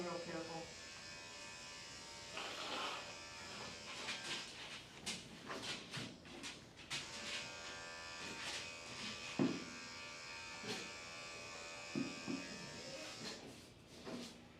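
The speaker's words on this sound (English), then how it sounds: "I want to shave" Electric clippers buzz while shaving a dog's fur over raw, flea-irritated skin, a steady close hum broken by handling clicks and brief bumps, with voices present at moments.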